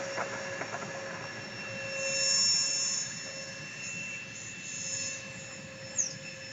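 A small J-10B model jet's turbine whines steadily in flight, a thin sustained high-pitched tone with faint swells as the aircraft passes, heard at a distance with no talking.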